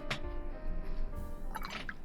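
A paintbrush is rinsed in water during mixed-media painting, with faint liquid drips and swishes at the start and again near the end over a soft steady background.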